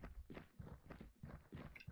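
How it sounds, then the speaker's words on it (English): Footsteps in Aidyn Chronicles, a quiet run of about seven evenly spaced steps over two seconds, faint and alone. "Here's footsteps."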